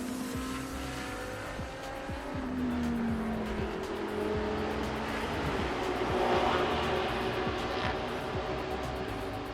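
GT race cars at Sepang International Circuit in Malaysia, GT Asia and Thai Supercar GTM classes, roar past in a steady, loud blend of engine drone with rising and falling pitch as cars close in and pass.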